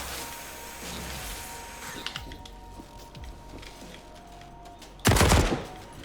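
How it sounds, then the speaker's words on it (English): Gunfire from the sci-fi survival game Memories of Mars, a low steady run of game shooting noise capped by one loud, close burst near the end. "you're gonna spend a ton of freaking bullets in order to kill those big ones"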